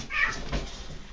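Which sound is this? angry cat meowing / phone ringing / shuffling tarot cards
angry cat meowing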